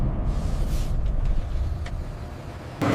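Refrigerated trucks arrive carrying premium black watermelons from the growing region, a low rumbling engine drone close by that eases off, then a sharp louder burst near the end; no talking.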